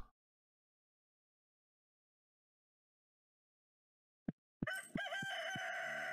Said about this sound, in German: Kikeriki.